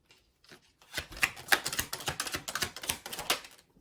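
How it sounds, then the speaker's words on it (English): Tarot cards shuffled by hand in a quick, dense run of crisp riffling clicks that start after a short pause and keep going at close range, with no talking. "If I can shuffle the cards"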